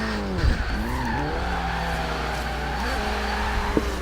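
Tires squealing as a small, aggressive Lancia skids in the Forza racing game, long wavering screeches layered over a steady engine drone, loud and continuous with shifting pitch.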